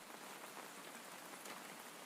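Steady rain falls on a surface, an even, continuous hiss of drops with no pauses, soft and alone.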